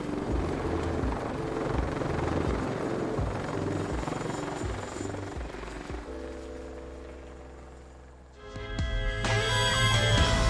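A naval helicopter lands on a ship's deck at night in rough weather, its rotor beating loud and steady with heavy engine roar, easing off briefly before surging back with a whining turbine.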